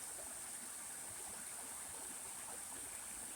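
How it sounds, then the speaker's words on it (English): Small waterfall spilling along a river on a forest hike, a steady broad rush of falling water that holds constant and fairly soft throughout, with no voices. "Ooh, look at little baby waterfall."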